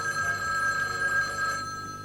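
An old-style telephone bell rings with a bright, sustained electronic trill that holds steady, then cuts off near the end. It is clear and moderately loud indoors, with no voices over it.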